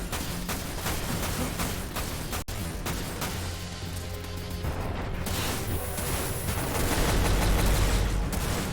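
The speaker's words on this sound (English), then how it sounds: "I'm being shot by something else?" Gunfire in the video game Dirge of Cerberus, a dense rapid fusillade of shots and impacts that runs steadily throughout, loud and close, with one sharp crack partway through and no voices.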